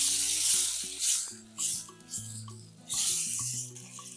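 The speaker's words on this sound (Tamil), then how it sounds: "ஒரு 2 நிமிஷம் வதங்கட்டும்." Soaked soya chunks sautéing in oil with Kashmiri chilli for a roadside-style veg salna, giving a steady close sizzle that swells in several waves over background music.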